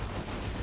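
A las cannon blast in Dawn of War 2, a dense, loud, broadband roar filling the whole moment like a continuous explosion, with no voices.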